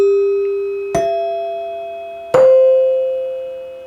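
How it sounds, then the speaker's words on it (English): A NuTone three-note dinner chime struck twice, each ring a bright metallic strike that blooms into a sustained, slowly decaying tone, close and clear with no talk. "This is a 3-note dinner chime"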